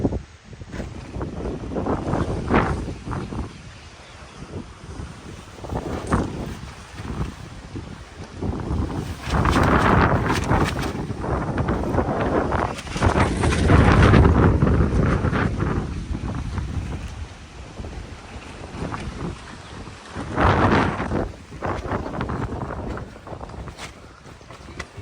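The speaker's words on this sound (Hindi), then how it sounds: "बहुत तेज आंधी है।" A strong outdoor dust storm gusts at a saint's rural hut, roaring and buffeting the microphone in loud, surging waves that swell and ease for the whole stretch.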